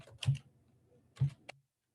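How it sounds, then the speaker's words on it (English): Keys on a computer keyboard are pressed while a command is typed, a few sparse, close clicks with pauses between them in an otherwise quiet room. "Okay, so I'm going to type in MV home."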